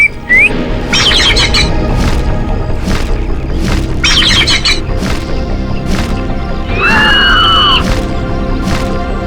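A bird squawks loudly in repeated harsh bursts close by, including a rising shrill cry, over dense, noisy background sound.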